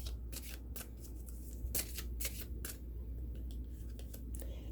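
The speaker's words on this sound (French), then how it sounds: "Et je vais piger une carte pour répondre à votre question." Tarot cards being handled and drawn from a deck, a run of crisp papery flicks and riffles at close range, repeated in short bursts over a steady low hum.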